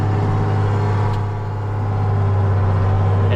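A big Ford tractor backs up a plow on a frozen field, its engine droning in a loud, steady, low hum that dips slightly midway and then holds close.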